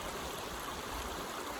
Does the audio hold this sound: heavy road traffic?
no